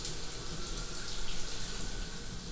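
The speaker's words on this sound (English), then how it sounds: "I take a shower, a long shower." Water running steadily from a shower, a dense, even hiss and splash that continues without break, fairly close and with no voices.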